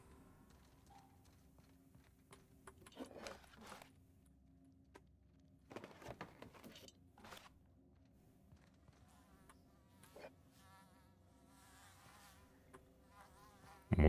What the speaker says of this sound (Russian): Мухи.